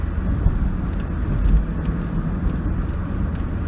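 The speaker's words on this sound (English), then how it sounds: "driving a little bit slower" A car driving slowly with its engine warmed up and the thermostat opening, heard from inside as a steady low rumble of engine and road noise throughout, with no talking.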